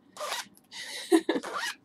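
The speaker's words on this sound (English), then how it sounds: "I will sit here and just zip and unzip until these zippers are" A clothing zipper is zipped and unzipped several times in quick succession, close and crisp, each pull a short rasping burst with brief gaps between strokes.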